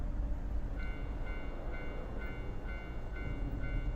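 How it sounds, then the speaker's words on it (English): A railroad crossing with a train passing: steady low rumble of rolling cars runs throughout, while a crossing bell's repeating high tone sounds at a regular pulse about twice per second. "I hear the sound of the railroad crossing."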